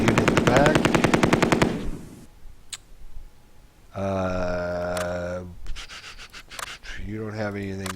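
In the Tigers on the Hunt war game, a light machine gun opens up with a dense, loud, rapid burst of rattling fire that cuts off sharply. Long synthetic tones and sound effects from the game follow.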